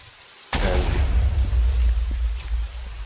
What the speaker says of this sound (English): makes a small explosion and spreads a bunch of fire everywhere